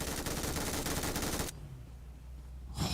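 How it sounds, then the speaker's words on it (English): Sustained automatic gunfire in PUBG Mobile at a European championship match, a dense rapid burst that stops abruptly, leaving a quiet low hum before another sharp burst of shots at the end. "That's such a beast of a gun."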